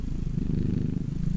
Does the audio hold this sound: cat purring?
yes